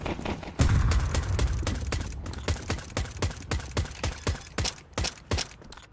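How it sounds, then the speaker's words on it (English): Gunfire in Counter-Strike during a professional match: a heavy blast followed by a rapid string of sharp, crisp shots that settle into evenly spaced bursts, close and loud. "Those shots a little high."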